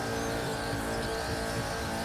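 A hypercar engine roars steadily at full throttle during a top speed run in a racing video game, a loud, unbroken high-revving drone.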